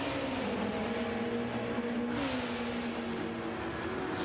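Race cars lapping Yas Marina in Gran Turismo 7, a continuous engine drone with a pitch that shifts as the cars brake and accelerate, steady and fairly loud with no voices.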